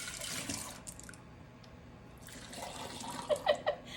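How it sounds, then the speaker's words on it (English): Tea spills from a mug and overflows into a sink as a soft, continuous splashing trickle, with a few brief sharper drips near the end. "I'm spilling more tea than I'm actually getting in the pot"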